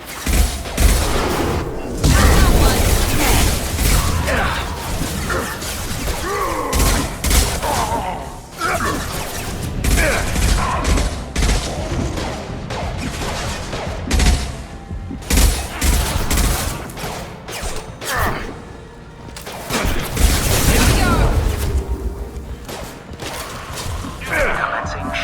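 Sustained gunfire and heavy explosions from Mass Effect 2 on the Omega station, with dense bursts of shots and booms filling the whole stretch and brief dips between volleys, and occasional voices under the combat.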